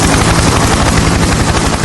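Helicopter rotor in the Sakura School Simulator game, a loud continuous thudding chop with a dense roar, steady and close throughout.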